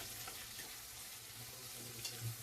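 A tomato and egg mixture is stirred in a pan for tomato egg rice, giving a soft continuous sizzle and frying crackle with faint scraping, quiet and steady throughout.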